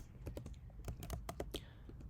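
Rapid typing of code on a computer keyboard, a quick run of sharp, close key clicks in an uneven rhythm, with faint speech in the background.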